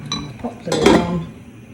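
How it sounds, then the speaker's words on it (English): A metal lid clatters onto a pot of simmering ginger syrup in a home kitchen, a few close clinks and a brief rattle before settling. "Pop the lid on."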